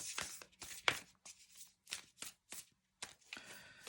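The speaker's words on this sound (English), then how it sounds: "let's pull a couple of cards" Mystical Shaman Oracle cards are shuffled in quick, crisp riffling bursts separated by short pauses, close and fairly quiet.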